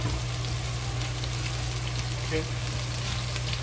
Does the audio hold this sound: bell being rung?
no